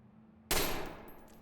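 A single sharp rifle shot cracks in the tactical shooter Ready or Not, loud and close, with a short decaying tail and no voices.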